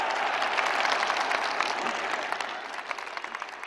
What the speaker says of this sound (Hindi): आइए हम सब लोग मिलकर आनंद से, प्रेम से, हृदय से गुरु महाराज जी का करतल ध्वनि से स्वागत करते हैं